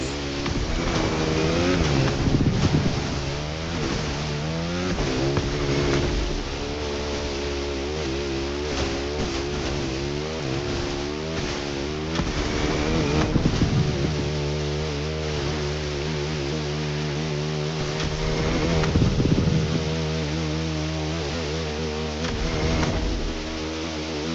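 A Ferrari 488 engine in The Crew Motorfest racing game revs loud and close, holding a continuous roar that climbs and falls in pitch through repeated throttle sweeps.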